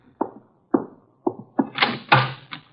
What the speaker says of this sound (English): Archie, the door, our guests are arriving.